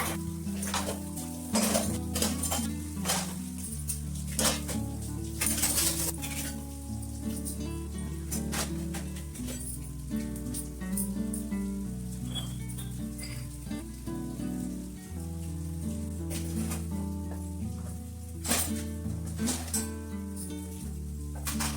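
Pots, pans and utensils used for a Ganpati puja being washed at home: a steady, close clatter of metal vessels knocking together, with splashing water throughout and no talk.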